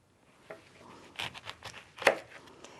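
A knife chops an orange on a board, with a handful of irregular cuts and thuds at close range, a sharp strike standing out near the end, and no talk.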